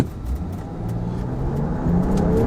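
The engine of a 2025 RAM 1500 pickup accelerating in sport mode, a deep, steady growl building in strength and pitch, heard from inside the cab with road noise underneath.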